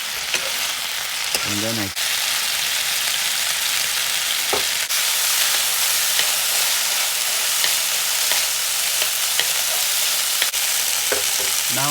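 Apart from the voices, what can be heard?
mixed vegetables frying in a pan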